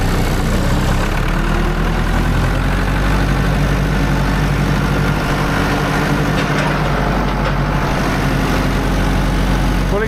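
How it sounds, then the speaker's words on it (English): A farm tractor stuck in a muddy ditch idles, a loud, steady low engine rumble with a constant throb that fills the whole stretch without talking. "Pulling tractor out of the ditch, you're gonna need a strong ass brother."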